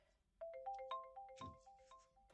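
A phone ringtone in the video game Who Pressed Mute on Uncle Marcus plays a quick bright melodic jingle of rising and falling notes, fairly faint, heard alone with no talking.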